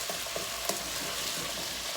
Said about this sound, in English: I am frying the potatoes